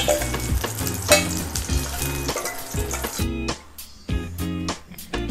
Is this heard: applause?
no